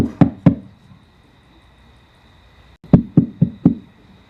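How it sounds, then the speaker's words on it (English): A storyteller raps knuckles on the door of a small cottage: two sharp knocks, a pause of about two seconds, then four quicker knocks, close and clear with no talking. "I knock on the door"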